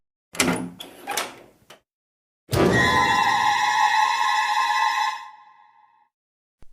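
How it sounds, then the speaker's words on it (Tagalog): A kitchen door rattles twice, then swings open with a long, loud creak that rings on and fades out into silence. "Biglang bumukas ang pinto ng kusina ng mag-isa"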